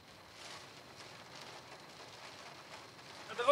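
Heavy rain mixed with hail falls steadily during a storm over an Indian state capital, a soft continuous hiss with patters, rising briefly at the end, no voices.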